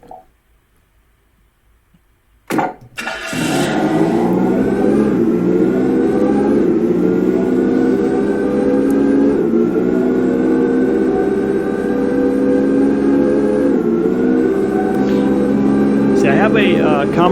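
Racing car engines revving in the video game Luxe Racing: after a sharp burst, a loud, steady engine whine holds, with pitch rising and dipping as gears shift, sustained and close.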